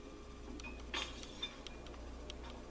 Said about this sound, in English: We just knocked down some glass.